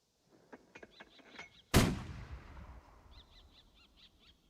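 A single heavy weapon blast in a video game, a sharp loud boom with a long decaying rumble, surrounded by faint clicks and warbling synthetic chirps before and after.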